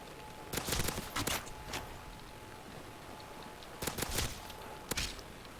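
Gunfire in the zombie shooter UGX Requiem: a few short bursts of shots near the start and again near the end, with a quieter stretch between them and a faint steady tone underneath.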